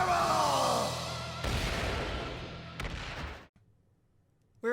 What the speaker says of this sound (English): Flame magic! Gargantuan exploding fireball!